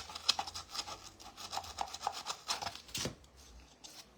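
Sander working on a clipped wooden part for a handmade floor toy, a steady rough abrasive rubbing in uneven strokes that surges and fades, moderately close and fairly quiet, with no talking.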